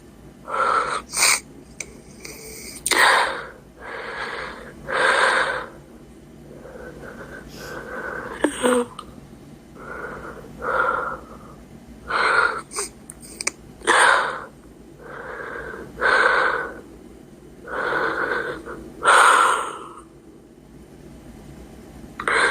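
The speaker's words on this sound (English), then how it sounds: "The breathing, though." Heavy, rhythmic breathing with wheezy, raspy inhales and exhales repeating every couple of seconds, close and loud, carrying on alone without talk throughout.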